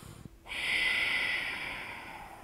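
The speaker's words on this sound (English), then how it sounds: "Breathing here." A deep nasal breath drawn in during yoga practice, one long, close, steady inhale with a hissing, airy quality that swells and then slowly fades.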